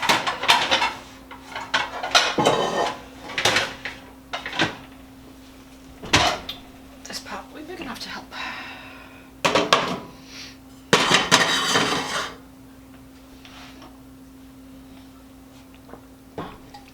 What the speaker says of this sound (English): So let me grab a pan.